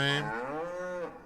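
A single drawn-out moo from cattle in a farming video game, close and clear, with no talking.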